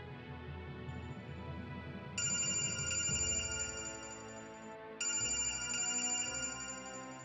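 A telephone rings at night in a drama scene, an electronic ringtone repeating in two loud bursts over a steady background music bed, with no voices.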